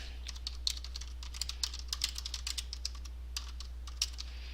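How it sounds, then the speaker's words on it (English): Fingers type steadily on a computer keyboard while writing a blog post, producing quick irregular key clicks close by at a soft level over a low steady hum, with no talking. "I'm just typing"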